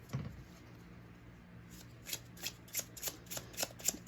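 A tarot card deck is shuffled quietly and close by, starting with a soft thump, then a run of crisp riffling card flicks that grows busier toward the end, with no talking.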